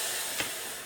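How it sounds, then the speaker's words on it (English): Steam iron hissing while pressing a princess seam open on a tailor's ham for a jacket, a brief continuous broadband hiss filling the moment. "You can hear that steam."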